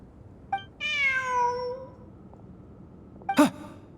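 A cat meows in the Genshin Impact video game during a Sumeru ruins event: a long, drawn-out meow, then a short second meow a couple of seconds later over faint background ambience.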